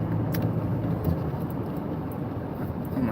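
Steady road traffic rumble heard from inside a moving car on a winter day, a continuous low engine and tyre drone at a constant level with no talking.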